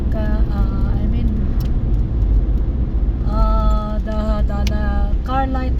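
A car passes along a dark road at night, its engine and tire noise forming a steady, fairly close rumble with a thin whining tone that rises and falls as it goes by.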